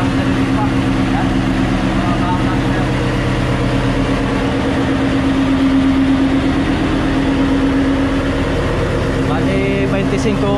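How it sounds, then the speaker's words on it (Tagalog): A generator engine runs steadily throughout, a loud, even low hum with a constant idling drone, while voices talk over it. "Yan, may isa pa kami generator."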